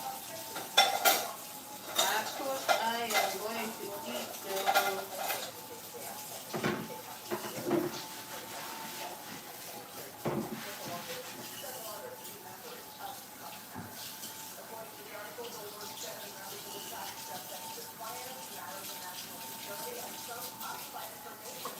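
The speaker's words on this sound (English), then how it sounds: "I am washing my little dishes behind here" Dishes being washed in a kitchen sink, with clinking plates and cutlery and splashing water, louder clatters early on, then a quieter steady wash, while someone talks over it.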